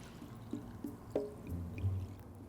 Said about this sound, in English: let's fill this with water so you can get a good look at